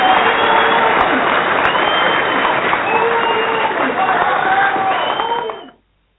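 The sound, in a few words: round of applause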